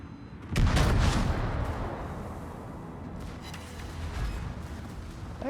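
Heavy naval gunfire from a warship battle game, a loud booming salvo near the start followed by a rumbling, sustained roar and a second swell of blasts later.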